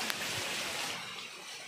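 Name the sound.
Kyara waterfall, water flowing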